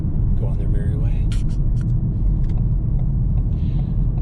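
Car on the move near a wooded campsite, a steady low road rumble with engine drone filling the clip, faint scattered clicks and a brief voice-like sound over the top.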